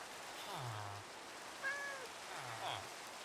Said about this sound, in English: I hear cat.